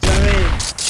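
A loud gunshot-style effect, a sharp burst with crackling decay, followed by brief noisy bursts, played alone without talk.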